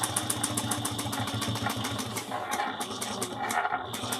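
A sewing machine back-stitches over bag straps with a fast, steady needle chatter close by and a brief slowdown midway, running alone without talk.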